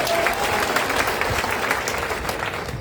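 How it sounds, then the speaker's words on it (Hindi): Applause at a political rally for the Indian Inclusive Party in Bihar, a steady patter of clapping that sounds like a modest crowd, close and continuous for the whole stretch. "लेकिन 5 आदमी ताली बजाता है।"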